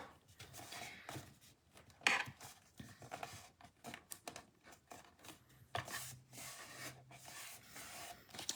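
Scissors or a blade cut and rasp through the top of a cardboard box in short, irregular strokes, close and quiet, with occasional sharper snips.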